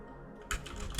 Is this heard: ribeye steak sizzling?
no